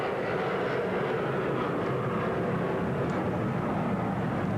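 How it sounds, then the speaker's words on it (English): An airplane passes high overhead above an NFL football stadium, its engines a broad, steady roar that holds at a constant level, blended with ambient crowd noise. "As the plane overhead takes someone toward the Orient"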